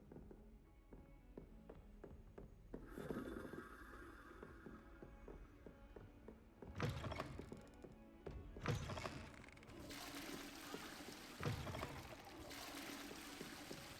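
A toilet flushes in the video game Hogwarts Legacy: faint rushing and gurgling water rises in several surges over a low, steady background hum, with no talking.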